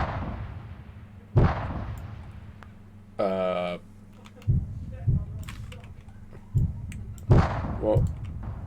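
Video game guns firing to shoot targets down, several sharp bursts and pops spread across the span over a steady low hum, with a brief tonal chirp in between.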